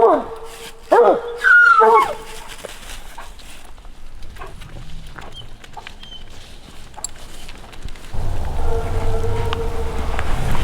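Coon hounds bark on a track in snowy weather at night, with a few sharp barks up front and quieter, more distant baying after, while a steady rain-like hiss and some vehicle rumble fill the background.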